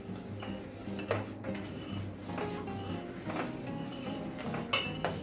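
Cardamom powder is stirred into thin one-thread sugar syrup in a pan for shakarpara, a spoon scraping and clinking steadily against the metal with occasional sharper knocks, close and moderately quiet, no voices.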